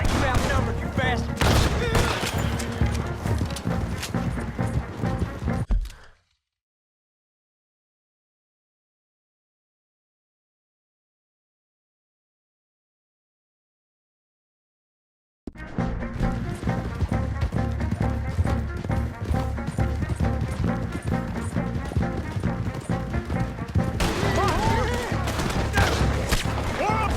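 In a Red Dead Redemption 2 shootout, dense rolling gunfire and rapid bursts keep booming with loud shouting voices over them. Everything cuts to total silence for about ten seconds, then the heavy firing starts again.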